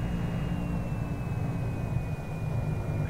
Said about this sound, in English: I genuinely like flying this plane.